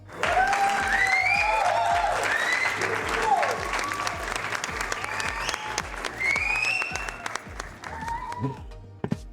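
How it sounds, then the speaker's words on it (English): Audience applause with cheering voices and whistles, the clapping steady and dense across the clip and mixed with shouts and speech in the crowd. "You should give yourselves a round of applause."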